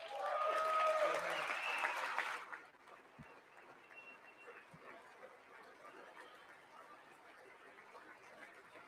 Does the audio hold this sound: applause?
yes